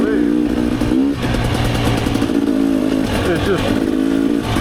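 A Rieju MRPro / Gas Gas EC300 two-stroke dirt bike runs in third gear on a Michigan trail loop. The engine holds a loud, steady, close drone with slight revving swells, and the rider talks over it.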